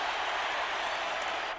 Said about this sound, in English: Crowd really noisy right now.